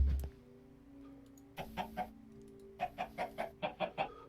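Chickens clucking in the Sky Factory 4 game: a single sound at the start, then a few clucks, a pause, and a quick rhythmic run of about seven clucks over a faint steady tone.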